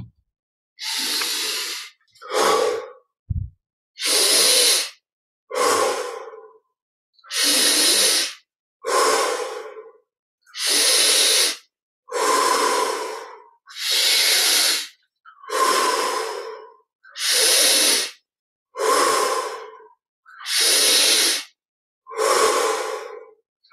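Deep, slow breaths drawn in through the nose and pushed out through the mouth repeat about a dozen times at a steady pace, each a loud, close airy rush separated by short silences.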